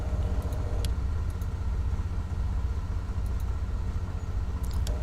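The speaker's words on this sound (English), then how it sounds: "Left engine started up." The left piston engine of a Beechcraft Baron 58 in a flight simulator runs at idle, a steady low rumbling drone with a few faint clicks on top, continuous and fairly quiet, no talk.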